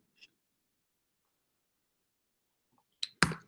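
A computer mouse gives a quick double click, two sharp, close ticks near the end following a faint isolated tick and near silence.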